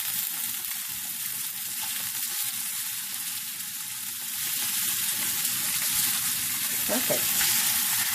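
Buffalo chicken pieces and garlic fry in a hot pan on medium-high heat, giving a steady, close, even sizzle throughout that swells slightly louder toward the end, with a brief spoken word over it.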